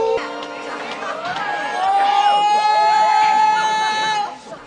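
Crowd of people screaming and shrieking in the film Moonwalker, a dense chorus of high wavering cries that swells and holds loud for several seconds before cutting off.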